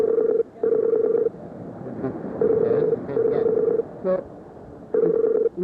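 A telephone call rings through toward voicemail: repeated steady electronic ring tones in bursts with pauses between, a few keypad beeps and faint background noise, plus a brief spoken word.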